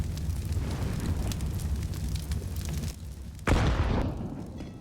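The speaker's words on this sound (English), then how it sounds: "Until the mollies start popping." Molotov grenades in Counter-Strike on the Overpass map burst into flame, heard as a crackling fiery roar with a sharp whooshing ignition near the end, loud and close.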